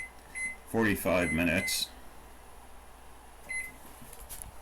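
A kitchen timer being set while sourdough bread goes into the oven: a few short electronic beeps at the start and again later, around a spoken phrase.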